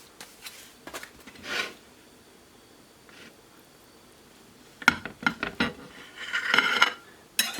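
A knife smeared with milk chocolate cream cake is wiped clean in short scraping, clinking strokes, a few soft rubs early on, then a busier burst of metallic scrapes and taps close by.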